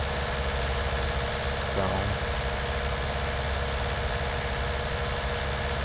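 A tractor engine runs steadily in the Farming Simulator 19 video game, a constant droning rumble with a brief voice over it.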